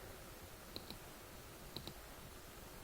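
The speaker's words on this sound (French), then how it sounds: "On clique maintenant sur drapeau vert." Mouse clicks on the green flag in Scratch: two quick pairs of faint, sharp clicks about a second apart, close and quiet over a low background hiss.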